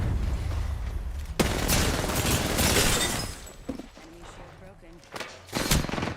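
Gunfire in the video game Apex Legends, loud broadband bursts and a sustained stretch of shooting followed by a few sharper shots, with talk present underneath.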